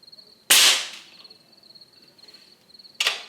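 Air rifle shots in a caliber comparison, two sharp close cracks about two and a half seconds apart, each with a quick fading tail, over a faint steady high whine and quiet background.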